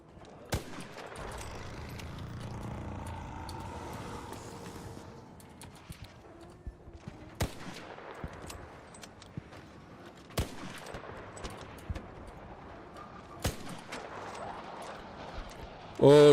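Gunfire in the space game Star Citizen: sharp isolated shots spaced several seconds apart, distinct against a quiet, low ambient hum, with a louder burst at the very end.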